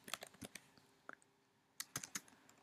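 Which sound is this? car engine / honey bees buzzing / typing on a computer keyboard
typing on a computer keyboard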